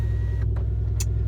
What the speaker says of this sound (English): Oh man, I love starting the engine on this car.